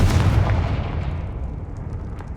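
A Confringo fire spell explodes in Hogwarts Legacy: one loud, close, deep blast that opens abruptly and then decays into a long rumbling tail, with no talk over it.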